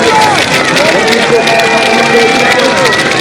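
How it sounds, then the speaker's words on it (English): A crowd of spectators cheers at a women's World Cup cross-country skiing relay in Gällivare, a steady broad roar that holds throughout beneath a commentator's continuous talk. "hearing that crowd cheering you on as well"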